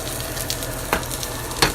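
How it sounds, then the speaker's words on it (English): A pork chop sears in a hot pan, giving a steady close sizzle and crackle with a couple of brief sharper pops and no talk. "going to sear this pork chop on all sides"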